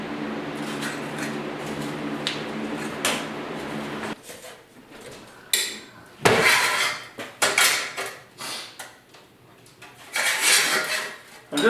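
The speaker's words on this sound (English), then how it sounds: "I'm just bending up a kind of a pan here" Sheet metal being bent and worked into a patch pan for rust repair on a 1939 Chevy two-door, with several metallic clanks and scrapes in bursts, starting after a stretch of a low background hum.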